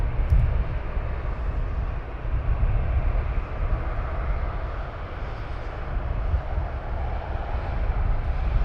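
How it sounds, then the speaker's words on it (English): A jet aircraft rumbles steadily at Luton Airport, a broad continuous low roar that holds at an even level throughout, somewhat distant, with no voices. "We do have an inbound aircraft"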